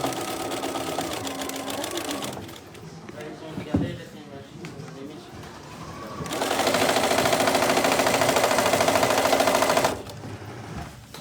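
A sewing machine stitches a French seam on a tote bag in two long, loud, steady runs with a quieter pause between them, while someone speaks over the stitching.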